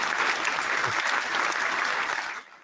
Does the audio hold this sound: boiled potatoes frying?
no